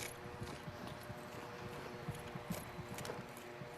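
Footsteps in a multiplayer VR shooter game on Oculus Quest, heard as a quiet, steady run of soft rhythmic thuds, fairly distant and evenly paced, with no voices over them.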